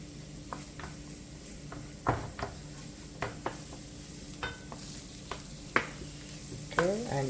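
Ginger paste with garlic powder and ginger powder softening in a little oil, sizzling steadily with scattered stirring scrapes and a few louder clatters, no talking.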